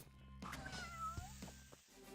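A cat meows once in the video game Epic Battle Fantasy 4, a clear drawn-out cry over quiet game background sound.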